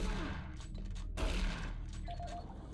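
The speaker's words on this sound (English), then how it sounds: "I'm gonna pull out the shotgun." Shotgun blasts in Doom 3 while facing zombies, a loud booming shot near the start and another around the middle, each followed by a dense rumbling tail over continuous game ambience.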